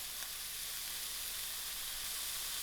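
Seasoned liver frying in a pan alongside sausage meat, a steady bright sizzle and hiss that stays even and close throughout, with no talking.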